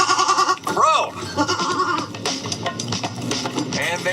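A goat bleats loudly and close in several wavering cries, with people talking and laughing over it.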